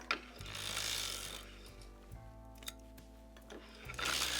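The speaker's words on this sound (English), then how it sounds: "with that we are ready to start cranking the heel" Continuous mechanical whirring and ratcheting of an LT150 sock knitting machine being hand-cranked while shaping a heel, steady and close, with a low hum under it and faint clicks, no talk.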